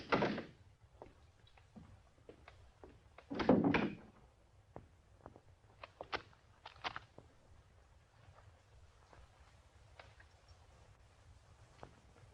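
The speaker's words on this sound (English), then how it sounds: "Well, if you want to see for yourselves, I'll unlock the door." A door being unlocked and opened indoors: a sharp metallic rattle and click, then a heavier clunk, followed by scattered faint knocks and clicks in a quiet room, with no voices.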